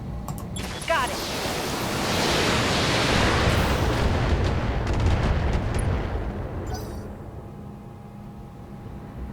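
Missile rack volley from a mech in the BattleTech game, a dense roaring rush of launches and impacts swelling over several seconds, loud and close, then tapering into a lower rumble.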